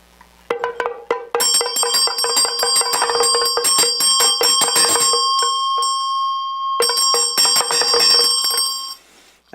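A Tibetan vajra bell rung by hand during a Buddhist teaching, struck repeatedly at first, then settling into a sustained bright shimmering ring that fades briefly near the end before swelling again, loud and close with no talking.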